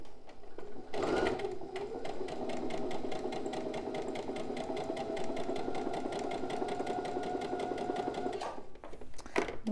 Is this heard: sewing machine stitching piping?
yes